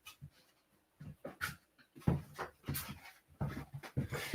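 A dog panting close by in quick, uneven bursts of breath with a few whimpers, nothing else heard.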